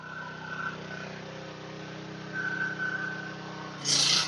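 A generator engine labouring hard at a high ampere setting gives a steady, droning hum with a strained tone, followed by a brief burst of hiss at the end.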